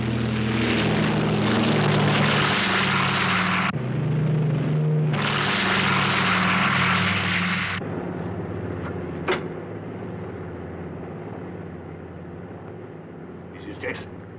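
A propeller aircraft drones steadily in flight as an even engine hum, loud at first then dropping to a quieter level, with voices speaking over it and a couple of brief clicks.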